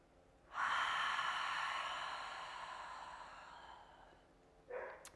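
A long, deep cleansing breath during a yoga session: a loud, airy breath drawn out for several seconds, slowly fading, followed by a brief second breath at the end.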